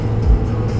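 A Cummins truck cruises down Interstate 81 in Virginia, a steady low road rumble and engine drone filling the cab without a break.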